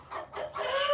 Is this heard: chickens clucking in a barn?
yes